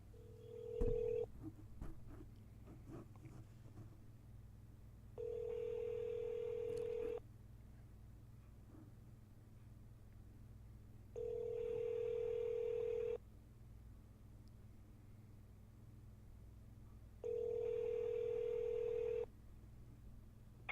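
A phone call to a senator's Washington, D.C. office: a few quick dialing tones, then a ringback tone sounding three times at a steady pace, each ring about two seconds long with long gaps between them.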